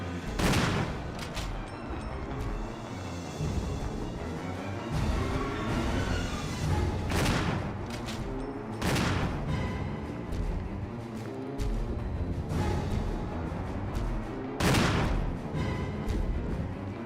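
Repeated gunshots from the Resident Evil Remake video game, with loud sharp bursts recurring every second or two across a sustained stretch of combat, heard close and without talk.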